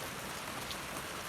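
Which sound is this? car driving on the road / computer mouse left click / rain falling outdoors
rain falling outdoors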